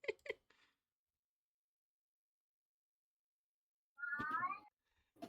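A cat meows briefly at the start and again with a longer, wavering call near the end, moderately close, with silence between.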